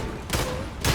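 Dense bursts of gunfire from the video game Warhammer 40,000: Darktide, a loud continuous volley with sharper blasts starting and ending the stretch, no voices.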